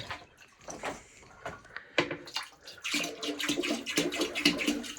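Antifreeze poured into a farm sink drain for winterizing, a close sloshing, gurgling pour that grows louder and fuller partway through, with no talk.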